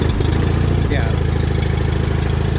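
A John Deere 318 garden tractor with an Onan engine runs close by, idling loud and steady with an even, rapid low throb, and one brief word is spoken over it.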